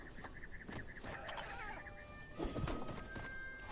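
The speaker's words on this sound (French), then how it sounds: "En plus, tu fais un de ces bruits quand tu claques du bec." A chicken-like creature in the game Conan Exiles clucks and clacks its beak in a string of short, fairly faint squawks and taps over low game ambience.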